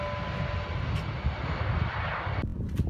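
An airplane at Copenhagen Kastrup Airport roars steadily, a loud broadband engine rumble with some wind buffeting, sustained throughout and cutting off sharply near the end.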